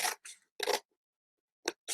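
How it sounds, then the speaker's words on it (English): Scissors cut through folded paper in a few quick, crisp snips, with a pause in the middle and two more short cuts at the end, close and clear with no talk. "what I want you to do with your pair of scissors, if you have it, is just cut along this middle section here"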